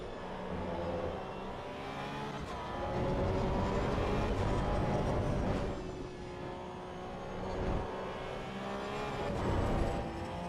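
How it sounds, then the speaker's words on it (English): Porsche Cup race car in AC Evo at Laguna Seca, engine droning loud and steady throughout with a thin high squeal of tires rising and falling over it, no talk. "Tires are complaining."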